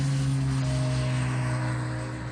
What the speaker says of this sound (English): He revved up the single-engine turboprop